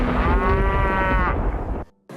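Cattle, cows and buffaloes, mooing in a long, loud, drawn-out call close by, with a shorter low grunt at the end and no talk.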